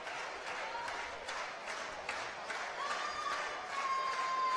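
A crowd applauds and cheers steadily through a swimming race at the 2013 IPC Swimming World Championships in Montreal, with a dense wash of clapping and faint whistles rising slightly near the end.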